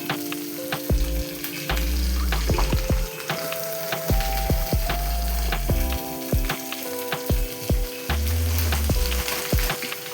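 Vegetables for fried rice sizzle and spatter in a hot pan, with repeated clanks and scrapes of a utensil stirring, steady and close with no talking.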